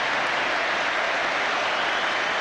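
A steady wash of applause and crowd noise fills a stadium at a rugby match between England and Tonga, continuous and broad with no single voice standing out.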